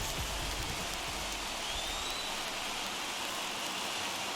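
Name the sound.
rain falling in MLB The Show 21 video game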